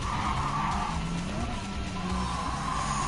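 Ford Focus Group B rally car in Gran Turismo 7 skidding across mixed dirt and asphalt, a steady loud rasp of tires and engine roar filling the whole stretch with a faint voice underneath.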